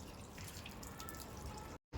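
Water spatters and drips steadily at a tap during wudu ablution washing, a close, continuous wet patter that cuts off abruptly before a brief burst resumes.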